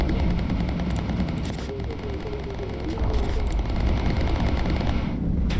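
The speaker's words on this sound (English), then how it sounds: "Beautiful shooting, crew and gunners." Gunners firing machine guns from a bomber in the video game Bomber Crew, dense rapid bursts rattling continuously over a loud engine drone.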